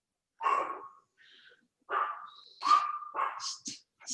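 A dog gives several short sharp barks and yelps indoors, close and loud, spaced irregularly with brief pauses between them.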